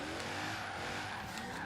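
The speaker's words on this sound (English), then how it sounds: "I'm going to attempt to drift this car with no tune" A car in a racing game drifts with no tune, its tires squealing steadily in a high sustained screech over a continuous engine drone, loud and close throughout.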